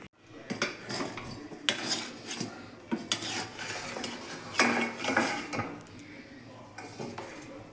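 Metal clanks and scrapes against a pot while its lid comes off a pot of chicken biryani resting on a griddle, with repeated clatters and rubbing sounds close by.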